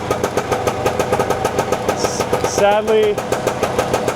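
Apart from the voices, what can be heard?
two-stroke motorcycle engine running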